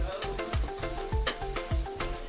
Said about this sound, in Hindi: अब ये दूसरी बार भी ऐसे फ्राई करेंगे, कम आंच पे रख के फ्राई करना